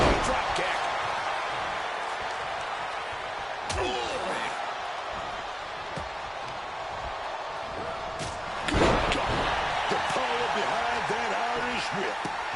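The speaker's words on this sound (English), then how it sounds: "Punch connects. Rolling drop kick." Heavy body impacts from a rolling drop kick and punches in the WWE 2K26 wrestling game, sharp thuds around four and nine seconds over steady arena crowd noise and commentary-style game audio.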